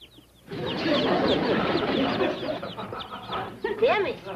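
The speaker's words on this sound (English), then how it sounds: "Them is chicks." A box of chicks cheeping busily in high, rapid overlapping peeps, close and steady, with people talking over them.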